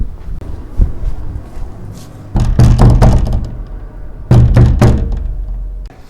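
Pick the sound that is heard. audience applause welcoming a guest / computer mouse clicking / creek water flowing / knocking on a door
knocking on a door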